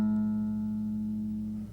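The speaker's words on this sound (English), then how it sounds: "take our 3rd finger and put it on the 6th string of the 5th fret and press down, and you'll sound like this." A guitar's sixth string, pressed at the fifth fret, rings out as one clear, sustained note that fades slowly before being cut short.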